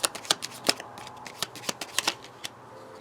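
A deck of tarot cards is shuffled by hand, with a quick run of crisp, close riffling flicks and slaps in an irregular rhythm that fades toward the end.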